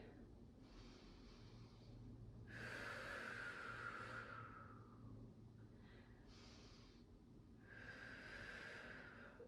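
Audible breathing while holding a yoga warrior two pose during a vinyasa flow: two long, fairly close exhales stand out against a steady low background hum, with a fainter breath between them.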